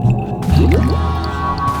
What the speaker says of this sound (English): The tar pit was bubbling invitingly.